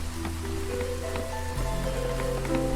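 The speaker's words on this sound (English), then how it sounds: "So we have some time before the drizzle is done and the storm will come" Light drizzle pattering steadily in the video game Against the Storm, a continuous soft rain hiss layered with sustained tonal game music and no speech.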